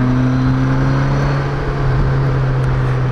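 A BMW K1200LT touring motorcycle engine hums steadily while riding, a low constant drone with wind rush layered over it, close and loud without talk.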